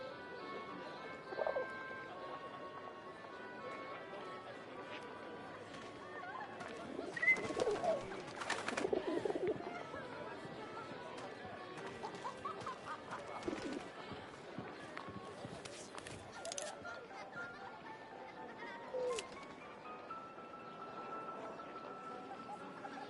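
Pigeons cooing in soft, low repeated calls beneath a busy background of shuffling movement and occasional voices, the birds fairly close but quiet.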